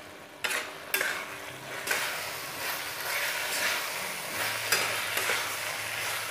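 Matar mushroom curry fries in a pan over a gas flame, a soft steady sizzle broken by scraping stirs and a few light clinks of the spoon, close and moderately quiet with no talk.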